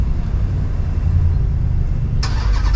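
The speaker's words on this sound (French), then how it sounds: "le TRX fait vraiment un bruit de taré" A Dodge RAM TRX with a 700 hp engine runs with a steady low rumble, loud and close, while its revs climb slightly and brighter noise cuts in near the end. No one speaks.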